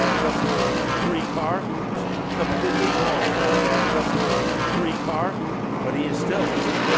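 Whelen Modified race cars roar around Thompson Speedway in a 2016 Ice Breaker feature, a dense continuous engine drone with pass-by sweeps, under steady commentary.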